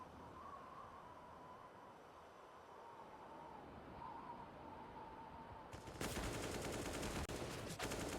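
Rapid gunfire bursts in a competitive first-person shooter esports match (FTW vs ENTROPIQ, CCT Central Europe), loud dense shots erupting near the end after a quieter stretch of game ambience.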